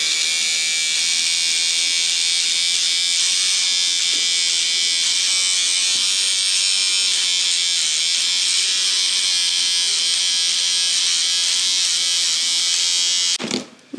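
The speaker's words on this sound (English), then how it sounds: "you're going to gently let the ripper go through the threads" An electric seam ripper buzzes continuously for about thirteen seconds as it slices through the stitching threads of a quilt. The high, steady whine is close and loud, with no talk over it, and it cuts off abruptly at the end.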